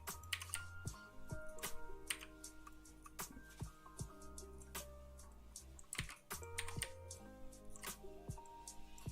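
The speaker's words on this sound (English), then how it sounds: "I'm clicking so hard, or so fast that my wrist is hurting" Rapid clicking on a computer setup, a dense run of sharp close-up clicks and taps with uneven rhythm, faint and quiet throughout.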